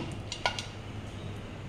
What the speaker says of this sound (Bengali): আর এবারে মাংসটার মধ্যে জাস্ট গরম মশলা দিয়ে নাড়াবো